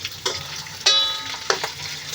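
Food frying in a pan with a steady low sizzle, broken by a few louder bursts of crackle and stirring clatter.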